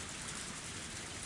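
Steady rain from the video game Higurashi When They Cry Kai: Matsuribayashi, a dense, continuous hiss of falling drops at even loudness throughout the short stretch, with no voices.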